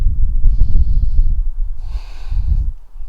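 A deep breath drawn and released during a yoga flow, with two broad airy swells of inhale and exhale, close and soft, over low room rumble and no talk.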